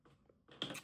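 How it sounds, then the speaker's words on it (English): A few quiet, close key presses on a calculator keypad, soft clicks in quick succession, with a slightly louder tap near the end and no talking. "by going to my calculator, typing in my second derivative"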